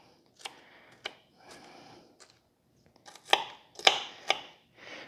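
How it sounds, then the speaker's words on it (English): A knife chops an onion on a cutting board in a home kitchen, giving a series of irregular crisp knocks and crunchy cuts. A few come singly, then a quicker cluster follows, close and moderately loud with no talk. "I'm going to cut this onion up a little more, and I want to chop it for this"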